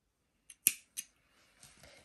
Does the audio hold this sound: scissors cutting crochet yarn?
yes